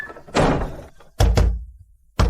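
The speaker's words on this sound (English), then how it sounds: "Shut the door!" A door shut hard several times in a domestic drama scene, three heavy close thuds with short gaps between them, the first followed by a brief rattle.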